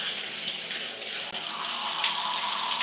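Tap water runs steadily into a sink as a loud, even, broadband rush with one brief dip partway through.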